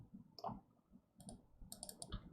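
A computer mouse gives a few quiet, sharp clicks, including a quick pair close together, in a silent room.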